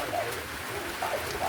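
Rain falling outdoors, a continuous soft hiss of drops, with faint bird calls chirping in the background.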